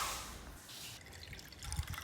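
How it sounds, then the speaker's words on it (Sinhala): Coconut milk is poured into a mixture for watalappam, a soft, faint liquid trickle and splash that is close but quiet, with a small thud near the end. "අඬු කෝප් එක පොල් කිරි තමයි අම්මා දැන් ඔය දැම්මේ"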